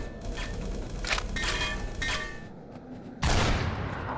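Gunfire in the video game E.Y.E.: Divine Cybermancy rattles in dense, noisy bursts, then ends in one loud, sudden blast with rough tails, and nobody speaks.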